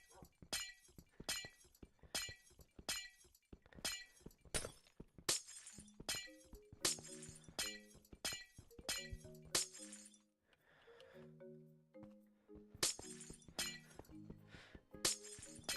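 Glass blocks shatter one after another in the Minecraft Skyblock video game, a fast run of crisp breaking clinks, some sounding in quick bursts, mixed with short tonal game notes.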